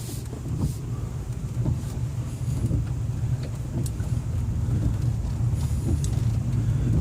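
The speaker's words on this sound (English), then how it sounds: "This is not a competent vehicle, and I am driving into a swamp" A car unfit for rough ground drives off-road into a swamp near Spangdahlem, its engine a steady low rumble throughout, with wind buffeting the microphone.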